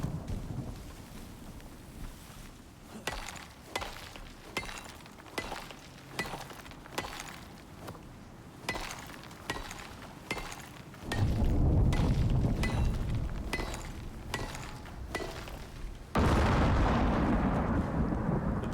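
Storm in the survival video game Icarus brings repeated heavy booming thumps, roughly one per second, then surges into a roaring rush of wind and rain, loud and close, with no voices.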